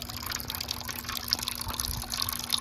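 A steady stream of water trickles and splashes into a drilled drain hole in a rusty garden water feature. The sound is soft, continuous and slightly bubbly, with a faint low hum underneath.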